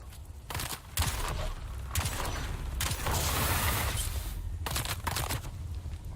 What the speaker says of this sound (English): Let's try the pistol.